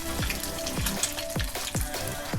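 Leftover wontons fry in a hot pan, browning on the bottom, with a close, continuous sizzle and regular percussive taps and scrapes roughly every half second.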